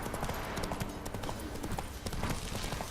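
Horse hooves clip-clop steadily in The Witcher 3 video game, a dense, continuous patter of hoofbeats under a busy, noisy background.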